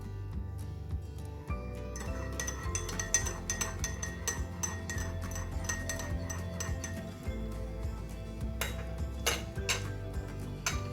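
A teaspoon clinking against a cup while stirring sugar into masala chai, rapid bright metallic taps in an uneven rhythm over a low kitchen hum, close and clear with no talking.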